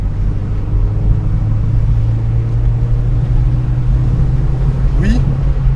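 A Mazda MX-5 NC Niseko's engine pulls steadily uphill on a winding road, a loud, constant low drone heard from inside the cabin, with a brief voice near the end.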